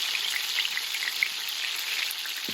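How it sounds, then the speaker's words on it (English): Three Malaysian prawn fritters (cucur udang) fry in oil with a constant fine, bubbling hiss and scattered pops, moderately close, with no talking. "So these are just the 3 fritters that are being fried for now."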